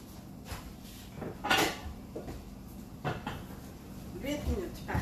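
A rectangular steamer dish holding a banana cake, with no lid, is set into a microwave: soft clunks and scrapes of dish and door in a kitchen, with a voice talking throughout.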